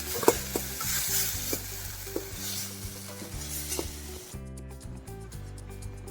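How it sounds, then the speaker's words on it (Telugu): Spice ingredients fry in a pan, with a soft steady sizzle under repeated scraping and clinking of a ladle stirring against the metal, until the frying noise cuts away near the end. "ఇప్పుడు పచ్చివాసన పోయేదాకా వేయించుకుని"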